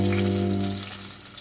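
King oyster mushroom nuggets sizzle steadily in a frying pan, a close, continuous crackling fry over a low hum, gradually easing slightly.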